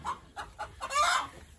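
A hen clucking agitatedly after being taken off its nest, a run of four or five sharp clucks ending in a louder, drawn-out squawk, close by.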